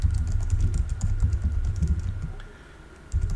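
Fast typing on a computer keyboard, a close run of quick key clicks that slows briefly near the end before one last burst of keystrokes.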